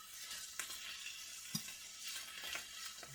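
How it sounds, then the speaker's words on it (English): Spinach and pepperoni sizzle in a pan while being stir fried, a steady hiss with occasional clicks of the utensil against the pan, close up and without talk. "Stir fry it a little bit more to get the taste of the pepperoni into the"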